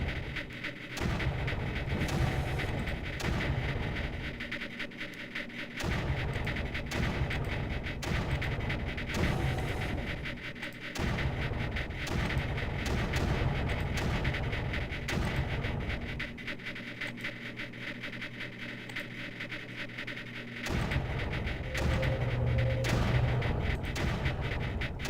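Bombing explosions in the strategy video game Creeper World come as repeated heavy booms in bursts with short gaps, loud and continuous throughout, with no talking.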